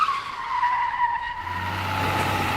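Tires squeal loudly as a car skids in a simulated school bus accident, a sustained screech that sweeps downward before a low rumble takes over.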